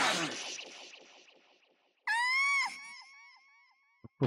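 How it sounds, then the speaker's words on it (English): Fire Emblem Echoes character death screams: a long wavering anguished cry fading out, followed by a sharp rising then falling shriek, loud and close. "The screams always get me."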